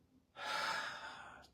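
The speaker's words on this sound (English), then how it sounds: "Inhale and exhale." One deep inhale during a guided breath work session, a close breathy rush of air that starts abruptly and tapers off over about a second.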